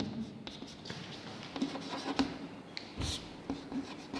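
Chalk scrapes and taps across a board as a math lesson is written out, a run of short strokes and scratches at close range with no speech over them.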